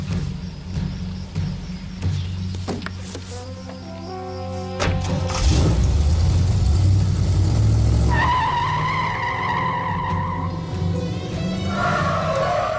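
A car engine revs and accelerates through a small-town street scene in Friday the 13th Part 6, rising from a low rumble to a loud, sustained roar with tonal whine and tire sounds, no talk.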